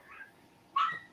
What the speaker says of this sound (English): my dog's going crazy